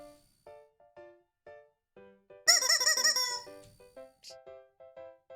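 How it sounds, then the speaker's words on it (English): A shrill, squeaky chicken-like toy or electronic cluck rises in a burst of rapid repeated squawks over a steady beeping electronic tone pattern, close and loud, with no talk. "That was a chicken."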